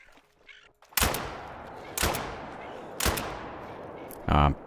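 Three loud, evenly spaced shotgun blasts in a duck hunting video game, roughly a second apart, each sharp report trailing into a short echo, followed by a brief burst of another sound.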